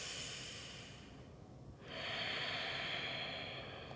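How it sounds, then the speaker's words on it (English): A slow, deep breath during a yoga pose in a vinyasa class: a long airy inhale, a brief pause, then a full exhale, heard up close with no talking. "One more breath here."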